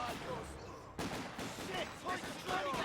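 MG34 machine gun fire in Company of Heroes 2, a sharp burst followed by scattered battlefield gunfire, set under a commentator's continuous talk.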